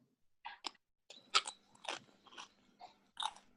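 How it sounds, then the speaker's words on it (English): Someone crunching food while eating close to a microphone, a series of sharp, irregular bites and chews with short pauses between them against quiet. "Someone's crunching."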